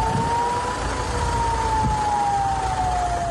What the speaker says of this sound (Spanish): En la ciudad de Jerusalén se activan las sirenas de ataque aéreo